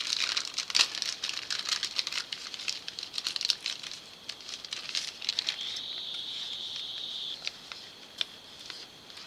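Package being peeled and ripped open by hand, plastic crinkling and tearing in quick irregular bursts, close and clear, with a longer steady peel in the middle and no talking.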